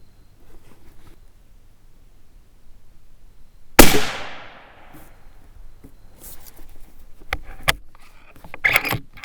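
A single sharp rifle report from a Howa Mini 6.5 Grendel firing a Barnes 120-grain load, loud and close, with a ringing decay, followed by faint clinks and handling noises.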